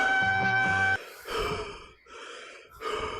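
Heavy, audible breathing after a climb up to a terrace rooftop, a few loud gasping breaths and sighs one after another, close by, with no talk over them.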